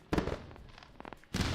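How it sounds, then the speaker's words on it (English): Fireworks sound effect on a live trading stream: a sharp burst at the start, scattered crackles and pops in the middle, then another loud burst at the end, with no one talking over it. "Let's go ahead with a round of fireworks for our Smiling 3D."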